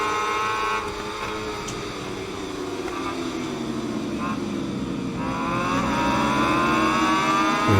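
A pack of racing motorcycles roars in the SBK 22 video game, the engines a steady dense drone with rising and falling pitch as the bikes accelerate and shift, loud throughout.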